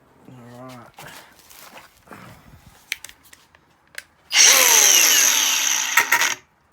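An angle grinder cuts through a jet ski pole on a Rocker nose Super Jet, a loud, harsh, steady grinding burst that lasts about two seconds and stops abruptly, after a stretch of quieter handling noises and a short voice at the start.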